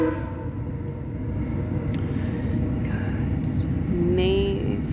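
A loud train rumbles past in a steady low roar, with a brief horn-like tone near the end and faint voices in the background.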